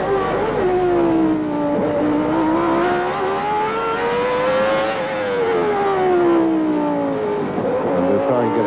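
Onboard sound of a 1990 Formula 1 car at the Mexican Grand Prix, Hermanos Rodríguez circuit: a loud, continuous high-pitched engine wail rising and falling in pitch through gear changes and throttle.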